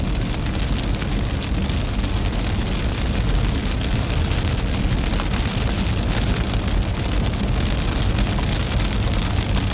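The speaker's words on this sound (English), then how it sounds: "Barely out ahead of this storm right now." Heavy rain from a Midwest severe thunderstorm drums on a storm chaser's moving car, a loud, dense, unbroken wash of spatter over low road and engine rumble.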